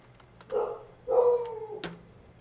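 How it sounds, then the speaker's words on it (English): Dog giving two short, muffled barks or yelps indoors, faint and somewhat distant, followed by a soft knock. "Dog's barking."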